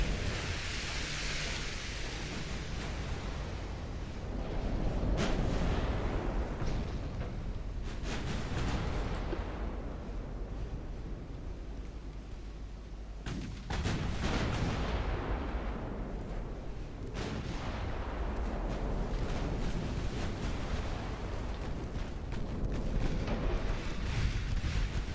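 Heavy naval gunfire from an enemy line of early-1900s battleships in the Ultimate Admiral Dreadnoughts naval game, rolling booms and rumbling blasts in repeated waves over a steady ocean-like roar, loud and dense without pause.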